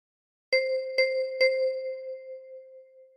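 Three evenly spaced thumb plucks on the same key of a 10-key kalimba, each a clear chiming metallic note, the last one left to ring and decay slowly in a quiet room.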